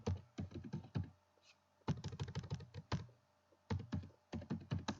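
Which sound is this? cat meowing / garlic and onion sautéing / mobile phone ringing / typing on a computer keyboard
typing on a computer keyboard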